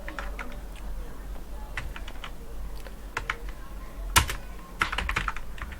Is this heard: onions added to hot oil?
no